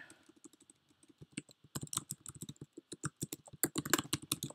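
Rapid, irregular clicks of a computer keyboard being typed on, close and fairly quiet, speeding up into denser bursts toward the end with no talking over them.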